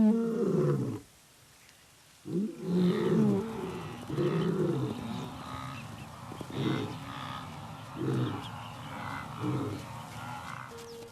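Adult male lion and adolescent lions in the Serengeti giving low, rumbling roars and grunts in repeated bursts with short pauses, close and fairly loud against an open outdoor background.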